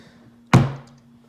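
A hard plastic carrying case for a Springfield XD40 sub-compact pistol is pushed shut with a single loud, close thunk, its resonance fading quickly into quiet.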